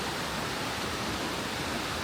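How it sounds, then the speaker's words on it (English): A small river flows through a botanical garden, giving a steady, full broadband rush of water that stays constant and close throughout, with no voices. "There is a little river flowing through the botanical garden."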